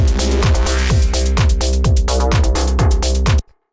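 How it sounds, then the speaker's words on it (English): A simple reese bass built from two detuned saw waves pulses on a C note in a driving techno pattern, rhythmic repeated hits with a buzzy, phasing low end, stopping abruptly. "Very simple sort of reese bass sound."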